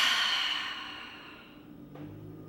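A long, soft exhale closing a guided yoga breathing practice, a steady airy release that fades gradually over a couple of seconds, heard alone without talk.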